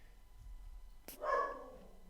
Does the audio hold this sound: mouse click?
no